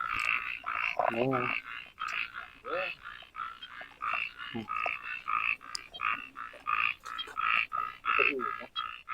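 Many frogs and toads croak together at a forest pond, a dense, steady chorus of rapid pulsing calls with deeper croaks breaking through now and then, and a brief voice speaking once.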